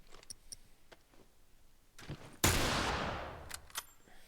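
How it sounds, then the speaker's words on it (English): A single loud gunshot from The Last of Us video game bursts out and rings into a long decaying tail, surrounded by faint clicks and small taps before and after. "I had to fire a bullet, I had to get this."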